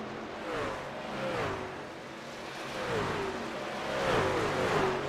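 Race trucks running side by side at Homestead-Miami in a truck series event: a continuous engine roar whose pitch sweeps up and down as the trucks shift and pass, moderately loud with no voices.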